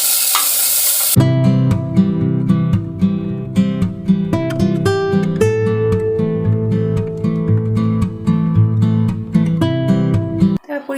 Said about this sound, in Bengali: ভাজা হয়ে গেলে ডালটা দিয়ে ভেজে নেব।